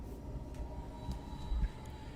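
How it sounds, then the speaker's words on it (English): A passing train sends a low, continuous rumble with faint rattling on top, steady and moderately distant, swelling slightly toward the end. "there's a train going by"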